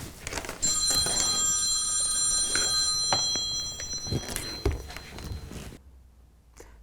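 A telephone rings indoors in a model railway workshop, with repeated bursts of a bright electronic bell over a few seconds before it cuts off into quiet, mixed with some knocking and shuffling.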